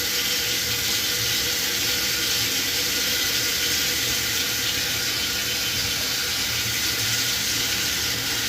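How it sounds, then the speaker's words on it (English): A tap runs steadily while a handle is washed at a sink, water streaming continuously with an even, bright splashing hiss and no talking. "I'll wash that handle."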